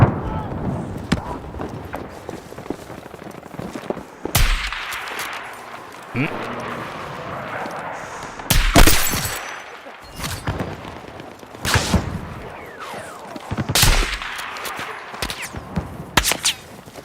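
Bursts of gunfire in a Battlefield match, several sharp loud shots spaced irregularly over a busy background of battle noise, with a voice talking between them.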